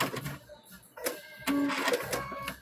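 A sewing machine stitches binding onto a quilt in short, uneven bursts of mechanical whirring, with a brief pause between runs and a steadier, louder stretch at the end.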